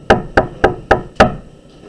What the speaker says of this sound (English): the knocker sounded very gently on the door